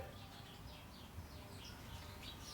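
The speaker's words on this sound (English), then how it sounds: "Oh, there are birds too." Birds at a backyard bird feeder by a back porch give faint, repeated chirps and short calls over a soft steady outdoor hum, distant and quiet, with no voices.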